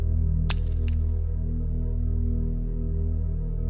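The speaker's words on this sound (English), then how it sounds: "The doll rolled off the floor, the glassy eyes shattering" A doll's glass eyes shatter in a quick double clink of breaking glass, sharp and close, over a steady low droning background.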